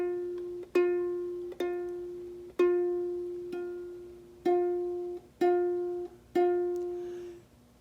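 A ukulele plucked on the first fret of the E string: seven clear, identical notes, each ringing and slowly fading before the next, evenly spaced, close and alone.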